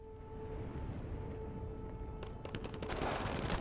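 Rapid automatic gunfire in the Starship Troopers Extermination multiplayer PvE shooter, a dense burst of quick cracks that starts past the midpoint over a constant low game drone and hum.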